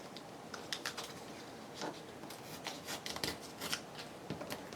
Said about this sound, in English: I'm just going to kind of rip the edges of these a little bit more